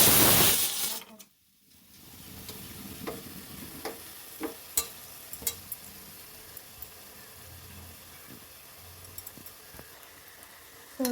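Raw jackfruit pieces for kabab frying in oil and being stirred: a steady soft sizzle broken by scattered sharp scraping clicks of the utensil, close by, with no talking.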